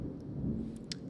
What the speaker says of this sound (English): It's raining, y'all. It's hurricane season.